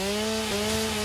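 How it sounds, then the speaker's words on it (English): A chainsaw in the video game Satisfactory runs with a steady, loud, droning engine buzz and constant harsh grinding throughout, with no pause and no speech. "I do have a chainsaw"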